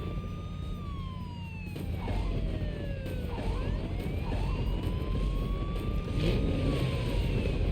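Police car siren wailing in rising and falling sweeps over a steady engine hum while driving in the Telltale Sam and Max video game, loud and continuous, with no talk.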